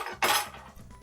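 A knife being picked up from cutlery, giving one sharp metallic clink followed by faint rattling, close by and with no talking.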